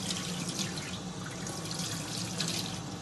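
A kitchen tap runs steadily into a sink as hands are washed, a continuous close splashing rush of water with no pauses.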